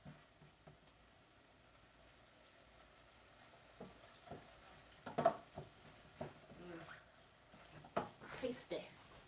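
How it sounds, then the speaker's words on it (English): Meat browning in a soup pot for a lentil and farro soup gives a faint, steady sizzle with scattered soft pops and clicks, sitting low beneath a person talking nearby. "Let me not forget I'm browning this meat."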